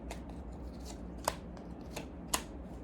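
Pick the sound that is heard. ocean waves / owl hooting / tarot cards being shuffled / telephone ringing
tarot cards being shuffled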